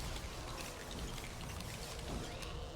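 Rain pours from a spawned rain cloud in a Lego Harry Potter game, with a steady, dense patter of drops and a trickling wash throughout, moderately faint.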